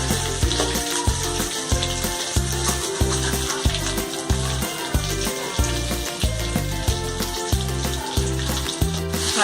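Fish in a masala coating fries in oil over a slow flame, giving a loud, steady close-up sizzle with a regular pulsing crackle throughout and no talking.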